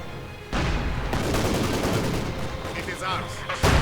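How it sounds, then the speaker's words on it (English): A heavy machine gun mounted on a Soviet vehicle in the Company of Heroes 2 strategy game rattles off rapid bursts of loud gunfire, with battlefield explosions and clatter layered around the continuous shooting. "the heavy machine gun mounted on this Rzu-152"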